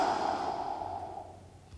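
A long, slow exhale out through the mouth after a deep breath in through the nose during a stretch, soft and close, fading gradually, with no talking.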